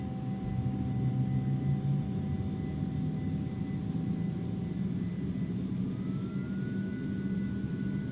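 Twin jet engines of an Aerobask Eclipse 550ng idle steadily in a flight simulator, a constant broadband roar with a low rumble and faint whining tones, one tone rising near the end, with no talk.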